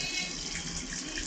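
A fuzzy logic washing machine fills its drum with water, a steady loud rush of running water that holds constant throughout with no talking.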